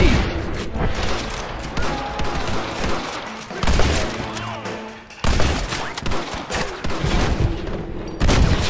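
Gunfire in Red Dead Redemption: rapid volleys of loud gunshots crackling in dense bursts, with brief pauses between exchanges, over layered game ambience and no voices.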